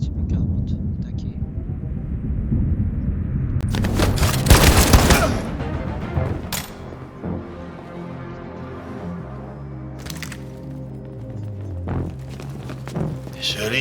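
Gunfire in the video game Detroit: Become Human, a loud close burst of shots swelling to a heavy volley, followed by a few sharp isolated cracks over a low rumbling game backdrop.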